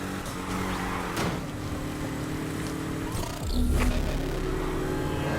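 A car in Need for Speed Heat drives along with a steady engine hum that surges louder partway through, alone without speech.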